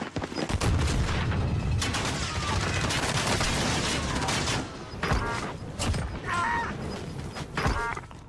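Heavy video-game gunfire in a battle royale match, dense bursts of shots and explosive booms filling the first half, then sparser cracks and a faint synthetic chime toward the end, all loud and close.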